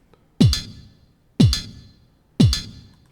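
A Pure Data beat machine plays three synthesized MIDI drum hits about a second apart, each a punchy downward-sweeping thump with a bright click that decays quickly into silence.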